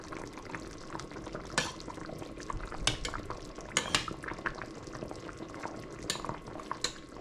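Beef meatballs being turned in a cooking pot with rice, a soft bubbling simmer under scattered scrapes and clinks of a utensil against the pot.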